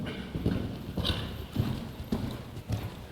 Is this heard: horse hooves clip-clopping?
yes